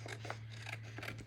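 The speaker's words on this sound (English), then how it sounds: "I'm gonna go through with my scissors" Paper being cut with scissors for a watercolor floral project, a few short crisp snips close up over a steady low hum.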